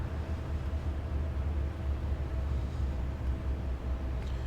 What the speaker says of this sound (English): engines are running down